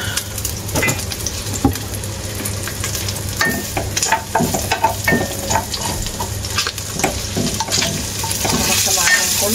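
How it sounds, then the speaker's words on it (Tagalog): Pancit noodles frying in oil while being stirred: steady close sizzling with repeated scraping and clanking of a utensil against the pan, loud and continuous. "Pansit na dry sa mantika."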